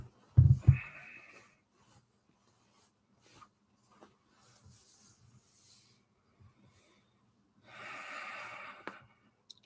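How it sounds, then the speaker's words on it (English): Breathing exercise in a meditation retreat: a sharp forceful exhalation at the start, quiet pauses with faint breaths, then a long steady outbreath near the end, close and alone. "now expelling the stale and the 9-round breathing"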